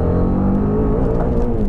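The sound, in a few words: Apache RR310 motorcycle engine revving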